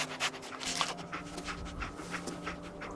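Dogmeat the dog from Fallout 4 panting steadily in quick rhythmic breaths over a low game background hum, close and moderately quiet, with no voices.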